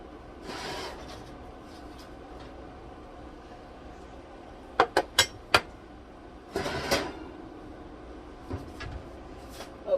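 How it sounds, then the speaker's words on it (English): Pan of roasted sweet potatoes being taken out of a kitchen oven: a soft rush, a quick run of sharp metallic knocks and clanks, then scraping and a few scattered faint clinks. "I'm gonna take it out of the oven."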